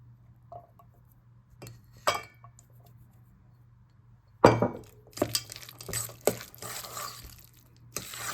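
Small cornichon pickles drop into a bowl of egg salad with mayonnaise, giving a few soft wet clinks and squelches, then a busier cluster of glassy taps and liquid splashes from a jar, close and fairly quiet.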